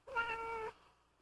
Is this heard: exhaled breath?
no